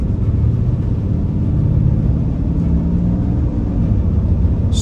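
A 2023 Ram 2500 Mega Cab Laramie pickup pulling onto a highway at moderate throttle, heard from inside as a loud, steady low engine rumble with road drone and no talking.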